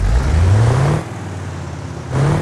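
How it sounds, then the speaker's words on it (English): An 11-litre V8 turbo diesel truck engine in BeamNG, loaded with 15 tons of boulders, revs loudly with a rising pitch, drops to a steady idle, then climbs again in a second rev. "That's because it's a V8 turbo diesel, 11 litres of diesel power."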